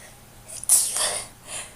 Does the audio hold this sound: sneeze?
yes